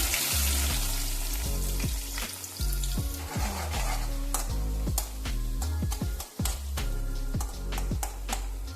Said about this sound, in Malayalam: ഇതൊന്ന് മൂത്ത് വരട്ടെ. ഇത് ഉള്ളി മൂത്ത് തുടങ്ങി.